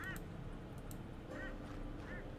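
Honking, goose-like bird calls in the Shardlight game sound a few times, faint and separated by short gaps, over a low steady ambient background.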